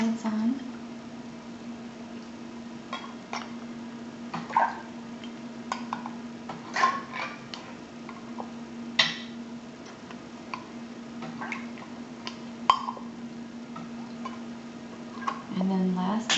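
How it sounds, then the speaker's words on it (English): Metal lids set onto glass jars of freshly made strawberry jam: scattered light clinks and ticks, some brief and faint, over a steady low electrical hum. "Put the lids on."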